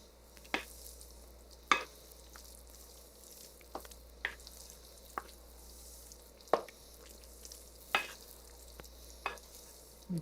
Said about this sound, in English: Mix it well.